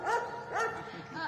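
A dog gives a few quick, high-pitched yips and barks at close range, two main bursts and then a fainter third, with a voice faintly underneath.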